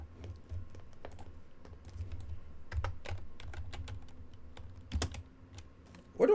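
Rapid, uneven keystrokes clatter on a computer keyboard at close range, steady through the stretch with a few harder taps and no voices.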